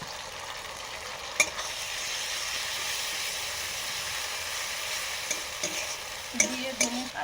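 Spice paste with chili and turmeric powder frying and sizzling in a pan after red amaranth greens, a steady loud hiss with a few sharp stirring clinks near the end, no voices.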